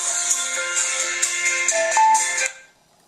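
A phone ringtone for an incoming call plays through a Veopulse S-31 Bluetooth hands-free kit paired to a mobile, a bright repeating electronic melody that stops abruptly after about two and a half seconds, with no voices.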